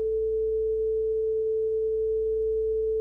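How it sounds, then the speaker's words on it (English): A steady A440 reference tuning tone, a pure sine pitch held continuously at even loudness with nothing else around it. "So that's A440."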